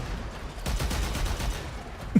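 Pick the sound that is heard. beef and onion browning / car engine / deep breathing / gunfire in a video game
gunfire in a video game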